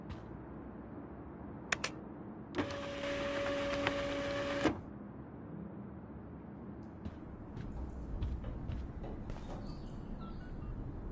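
A printer feeding and printing a sheet of paper in the Life is Strange video game, a two-second mechanical whir with a steady tone, preceded by a couple of sharp clicks and followed by quiet room ambience with small taps.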